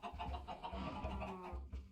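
Chickens clucking in the Minecraft modpack Stone Block 4, a run of soft, close clucks and low grunting calls, continuous for two seconds with no talk.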